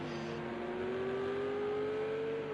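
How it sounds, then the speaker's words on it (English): A Ferrari GT3 car in a racing video game revs up, its engine tone rising smoothly and steadily over a low rumble. It is fairly faint and sits among other engine noise. "You can hear that Ferrari start to rev up all those revs and unleash all those horses"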